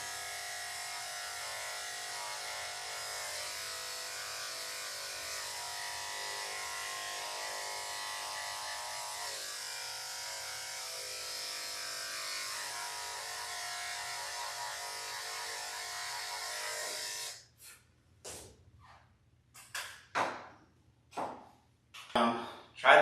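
Electric clippers buzz steadily while shaving a dog's rear during grooming, a continuous close whir that cuts off near the end, leaving scattered handling noises and soft thumps; a person speaks intermittently.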